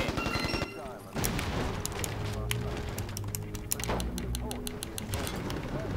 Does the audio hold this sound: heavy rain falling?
no